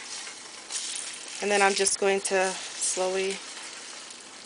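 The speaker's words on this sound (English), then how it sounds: "So I'm basically scrambling it inside of the pot." Eggs being scrambled and broken up inside a pot while cooking brown fried rice, a steady frying hiss with scraping stirs, partly under a person talking.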